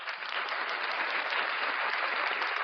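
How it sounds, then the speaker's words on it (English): Steady, even applause from a gathered audience honoring a president, a continuous wash of clapping at moderate level throughout. "We need a clap for the president."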